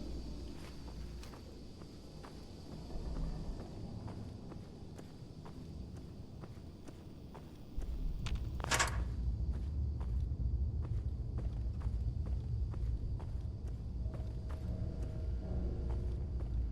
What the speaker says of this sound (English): Okay, I can hear footsteps.